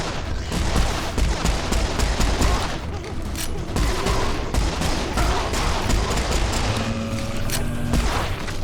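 Dense gunfire from weapons in the video game Serious Sam 4, with rapid overlapping shots and booming blasts forming a loud, continuous barrage.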